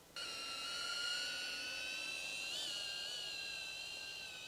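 A drone flying overhead above overgrazed pasture gives a steady high-pitched whine with a slight pitch wobble midway, constant and fairly close, with no talk.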